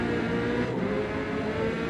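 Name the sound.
tuned Corvette race car engine in racing video game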